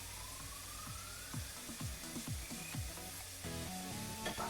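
Four eggs frying in a pan give a close, steady sizzle, broken by a few clinks and scrapes of a utensil against the pan and a brief burst of louder hissing near the end.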